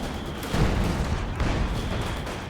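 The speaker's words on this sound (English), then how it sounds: "SU-76 firing on the machine gun over there, or rather the mortar" Booming gunfire from an SU-76 self-propelled gun in Company of Heroes 2, with a couple of heavy low blasts amid dense battlefield rumble and crackle.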